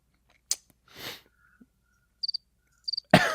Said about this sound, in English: Okay, enough of the crickets.